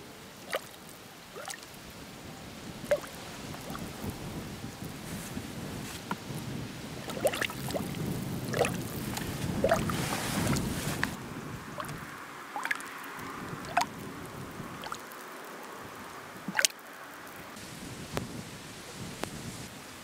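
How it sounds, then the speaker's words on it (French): Volcanic gas, mostly CO2, bubbles up through a muddy salinelle spring on Etna, giving a continuous wet gurgling bed with scattered sharp pops and plops throughout. "maintenant ça bulle plus fort"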